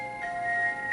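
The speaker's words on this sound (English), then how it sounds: "Ah, a little text message there." A Sailor Moon music box text message ringtone chimes a few soft, sustained tinkling notes, faint and brief, with nothing else over it.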